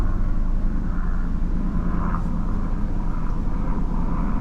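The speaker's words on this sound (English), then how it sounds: "There is a plane overhead." An airplane passing overhead near an RV: a steady, loud, low rumbling drone that holds throughout, with no talking.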